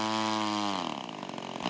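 Twin-cylinder gasoline engine on an RC model plane running, a loud, buzzy, steady drone that shifts pitch partway through and then carries on in a rougher, sputtering tone, close by with no talking.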